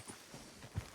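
A horse's hooves clip-clop at a walk in the Red Dead video game, a few soft, uneven hoofbeats close by with one heavier thud near the end.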